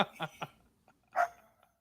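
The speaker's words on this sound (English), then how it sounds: "Dog's going crazy" A pet dog barking excitedly indoors, a quick run of three sharp barks followed by a pause and one more bark, close and moderately loud.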